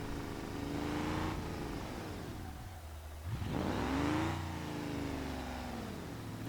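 A car engine in a modded driving video game revs up and down through long rising and falling sweeps, steady and fairly loud, with a brief dip in the middle before it climbs again; no speech.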